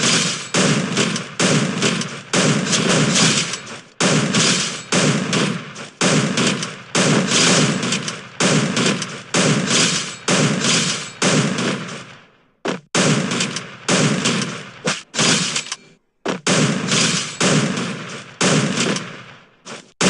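Rapid bursts of M590 shotgun fire with quick reload clicks in a mobile shooter game, loud and near, dense volleys repeating across the whole stretch with only a couple of brief pauses.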